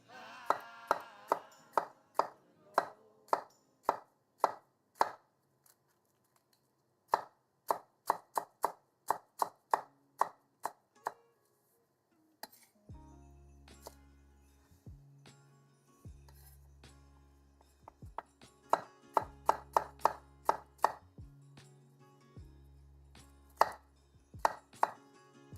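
A knife chops food on a cutting board in quick bursts of sharp, evenly spaced strikes with short pauses between runs. Occasional clinks of utensils and a low electronic hum sit under the later chopping, with no talking.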